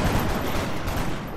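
Dense burst of rapid gunfire in the video game XCOM: Long War, a loud sustained volley of overlapping shots lasting over a second, with no voices.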